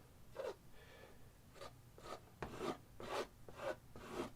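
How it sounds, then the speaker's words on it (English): A palette knife scraping thick oil paint into canvas for a textured broken old tree, a series of rough, rasping strokes about every half second, close and fairly quiet. "beat the paint into the canvas. Really scrape it."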